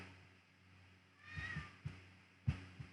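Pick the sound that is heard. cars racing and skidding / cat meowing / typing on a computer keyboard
cat meowing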